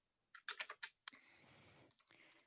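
A burst of quick keystrokes on a computer keyboard, a short run of close clicks, then a pause before a single tap and a softer stretch of room noise.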